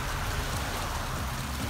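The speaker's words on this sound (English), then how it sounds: "it's hailing" Hail falls outside on a cold day as a dense, continuous patter and hiss of small impacts, loud and steady with no voices.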